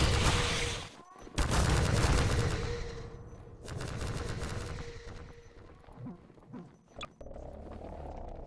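Loud rocket launcher fire and explosions in a video game, a heavy blast opening into a dense roar of gunfire and rumbling detonations that rise and fall, with brief sharp bangs near the end.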